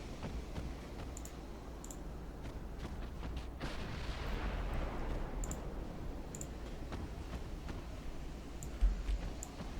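Naval gunfire and torpedo action in the warship game Ultimate Admiral: a steady rumbling battle bed with a broad roaring burst of fire swelling midway, scattered sharp clicks and distant thuds throughout.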